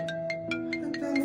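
A phone ringing with a repeating electronic melody of short tones, steady and close, alone.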